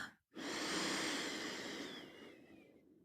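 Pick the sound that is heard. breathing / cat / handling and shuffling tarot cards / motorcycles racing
breathing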